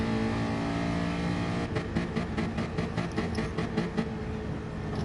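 A Gran Turismo Sport race car holds a steady, loud engine drone. About halfway through, a series of rhythmic pulsing revs and shift stutters begins and carries on to the end.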